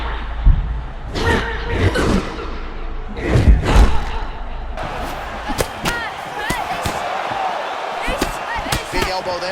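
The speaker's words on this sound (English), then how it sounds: "Elbow there lands." Heavy thumps and slams from a women's MMA bout in EA Sports UFC 6, Manon Fiorot vs Alexa Grasso, with an elbow strike landing among sharp impacts over crowd noise and commentary.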